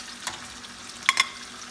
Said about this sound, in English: And we're gonna fry this both sides.